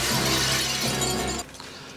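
Glass shatters loudly in a Sylvester Stallone action movie scene, a dense crashing burst lasting over a second that cuts off abruptly into a quieter tail of scattered debris.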